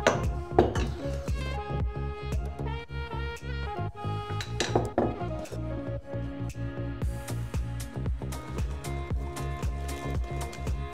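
A utensil repeatedly clinks and scrapes against a bowl while flour with nuts is folded into a butter, egg and sugar batter, irregular close taps throughout under a steady musical bed.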